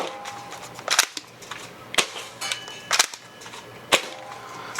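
An XShot Spinshot break-barrel toy blaster fires several sharp, snappy shots close up, spaced about a second apart, with clicks and handling noises between them.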